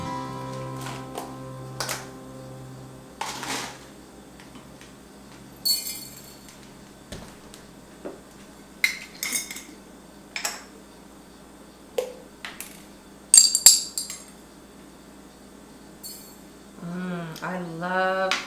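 Quarter-teaspoon measures of spices, including caraway seeds, dropped into the bottom of a half-gallon glass mason jar, giving scattered light clinks and taps on glass with quiet gaps between them, and a short murmur of voice near the end.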